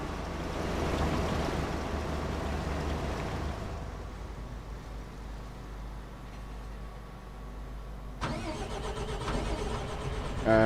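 A tractor engine in Farming Simulator 25 rumbles steadily at a low idle, with a slight change in tone partway through and no voices over it.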